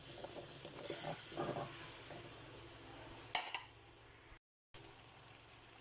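Squash (kalabasa) cooking in coconut milk in a pan, a soft steady sizzle and bubbling with a few stirring scrapes and clinks, fairly faint, no voices.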